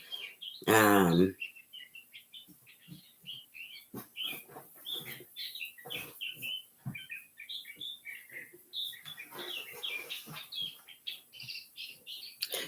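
Birds chirp and tweet outdoors in repeated short bright calls scattered throughout, with one loud squawk near the start and a person murmuring briefly.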